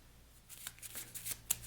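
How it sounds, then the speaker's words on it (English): A deck of game cards being shuffled: a brief, close riffle of quick papery flutters building to a crisp snap at the end, quiet and with no talk. "all of these cards, get mixed together and shuffled to comprise the hunt deck"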